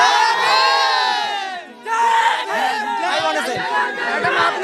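A large crowd at a Mayawati BSP political rally roars with cheers, whoops and shouts, loud and dense throughout, with overlapping voices and chanting.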